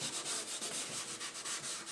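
Charcoal rubbed across a drawing surface at varying angles, a soft, steady dry scraping in repeated strokes, close and fairly quiet with no voices.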